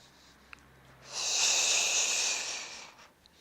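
A long, audible breath exhaled through the teeth during a somatic yoga practice, a close hissing rush that swells after a second, holds, then fades out.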